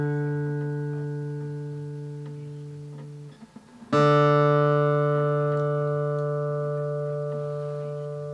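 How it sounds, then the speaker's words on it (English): On a guitar tuned for a left-handed player, a plucked note rings and slowly decays, then a second note of matching pitch is struck and rings out. The pair compares the fifth fret of the A string with the open D string. "if you were to move over and fret the fifth fret on the A string, this should sound the same as the open D string."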